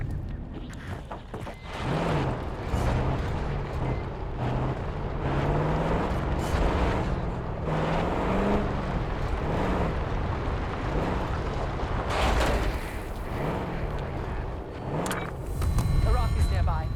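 A vehicle engine in a Call of Duty video game hums steadily at a moderate distance, its pitch swelling and dipping as it revs. Wind and rumble sit around it, and voices talk over the engine.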